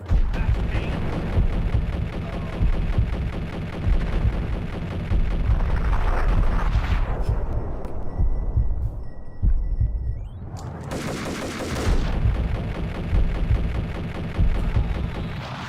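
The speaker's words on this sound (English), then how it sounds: "Is that a grenade launcher?" Explosions from a grenade launcher in the Max Payne video game, dense booming blasts with a rumbling low end over continuous game noise, a brief lull in the middle before another loud burst.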